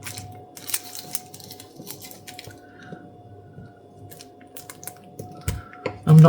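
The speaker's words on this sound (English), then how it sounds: "Cut some slices of Swiss roll." A knife slicing through a soft Swiss roll cake, quiet close squishy cuts repeated at an uneven pace with small clicks and kitchen handling noise, no talking.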